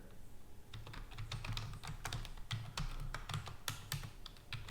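Steady, fast clatter of keys on a computer keyboard as Python code is typed, close and fairly quiet, with no voices.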